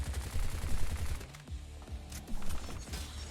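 Automatic weapon fire in the video game Bright Memory: rapid, loud bursts of shots with mechanical clatter, pausing briefly before another stream of fire.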